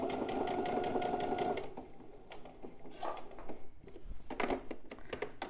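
A sewing machine stitches along a previous seam, running in a fast, steady, close-up rhythm, then stopping and leaving a few scattered mechanical clicks and handling knocks.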